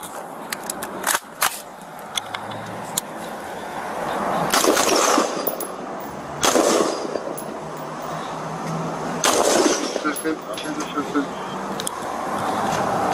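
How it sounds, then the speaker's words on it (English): Police open fire in a series of gunshots, sharp cracks scattered in bursts amid street noise, with people shouting over the shooting. "When the weapon was not released, another series of shots were opened."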